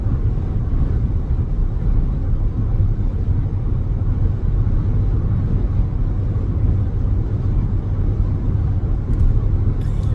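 A car drives along a road, making a steady low rumble of engine and tyre noise that stays loud and even from start to finish, with no talking.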